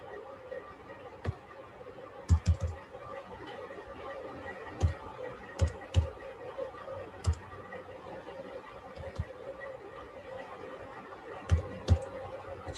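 A debit card number is tapped out on a computer keyboard in scattered, sharp clicks spaced irregularly over a steady low background murmur.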